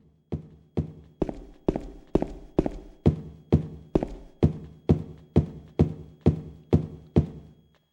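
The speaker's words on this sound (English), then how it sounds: "The tight, claustrophobic, long and dark hallways are all that's needed, with only the sound of James's footsteps" Slow, steady footsteps of James walking through tight, long, dark hallways in Silent Hill 2, each heavy thudding step clear and evenly spaced, about fourteen in a row, with nothing else around them.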